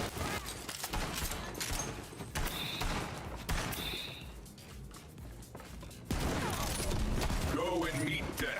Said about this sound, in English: So often actually I'm getting shot from behind.